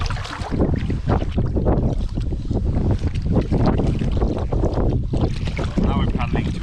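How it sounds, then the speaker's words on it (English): Steady, loud wind buffeting the microphone on open water while a bellyboat is paddled into the wind, with faint water and paddling sounds blended into the continuous roar. "Now we're paddling towards the wind."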